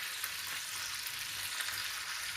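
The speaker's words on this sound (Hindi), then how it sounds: "ये मैं बिल्कुल हल्की आंच पे पका रहा हूँ क्योंकि हमारे कबाब जले भी ना और पक भी अच्छी तरह जाए" Peshawari chapli kebabs frying in a pan over a low flame, giving a steady, even sizzle with a faint low hum beneath and no voices.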